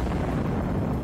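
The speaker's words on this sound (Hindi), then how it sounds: "यूक्रेन की सेना ने रूसी टैंकों को मिसाइल से निशाना बनाया" Missile strike blowing apart a Russian tank in the Ukraine war, heard as a dense, continuous low rumbling roar of explosion that stays loud and heavy throughout, with no voices.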